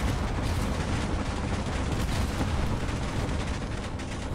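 Dense, continuous gunfire aimed at the player in the space-combat game Space Engineers, near and loud, a steady roar of shots and impacts from a Super Star Destroyer attack with no clear breaks.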